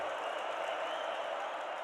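A roaring crowd at a Bison college football stadium during a Youngstown State versus North Dakota State game, a steady, dense wash of cheering and noise held at an even level throughout.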